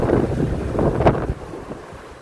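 Strong wind buffets the microphone on a bridge over the sea at Penang, a steady low roar with gusts swelling and fading, no voices.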